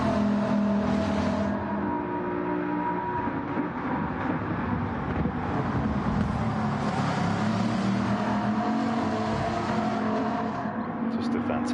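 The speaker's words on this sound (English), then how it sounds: "W16 engine." Bugatti W16-engined race car in a Gran Turismo-style racing game, its engine droning continuously and fairly loud throughout, with a commentator talking over it.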